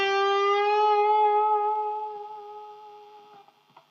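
An electric guitar note bent at the 8th fret and shaken with wrist vibrato rings out clean and clear, then slowly fades over about three seconds, ending with faint string noise.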